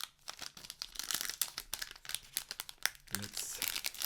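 Sturdy plastic trading card packs from a Rise TCG Alpha display crinkle and crunch as they are torn open, a busy, close rustling that runs the whole time with brief tearing bursts, while a voice speaks quietly underneath.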